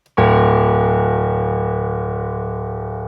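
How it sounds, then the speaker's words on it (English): A single low, dark piano note in D minor struck once and left to ring, sustaining and slowly fading with no other sounds. "So it's a very low, very dark piano"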